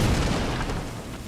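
A star bomb goes off in the game Wild Hearts with a heavy, close boom that hits at once and rumbles down over about a second.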